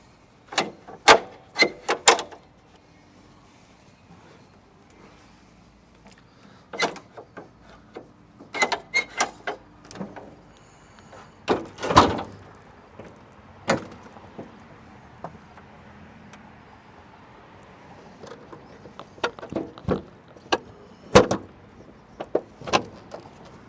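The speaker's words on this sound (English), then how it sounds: "Then you just come around to the other side and swing this last door open." Cab door on a Kubota RTV-X1140 utility vehicle being handled, with a series of sharp latch clicks, thuds and clunks in scattered bursts, fairly close, with no talking.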